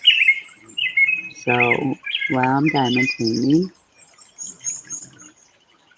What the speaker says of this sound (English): I don't know what that bird sound is